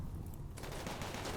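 Rapid gunfire in the video game RimWorld, a dense crackling volley that thickens halfway through into sustained automatic bursts, loud and continuous.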